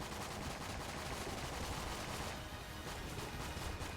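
Dense, continuous rapid gunfire from the Patriot gun in Enter the Gungeon, a steady loud stream of shots with no pauses and no talking.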